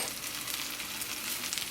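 Vegan French toast sticks made with aquafaba fry in a non-stick pot, giving a steady, close hiss of sizzling oil with no voices.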